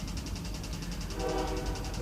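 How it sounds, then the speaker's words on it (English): A train passes by nearby with a steady rhythmic clatter of wheels over rail joints, a continuous rumbling roar filling the background. "you can hear the damn train passing by"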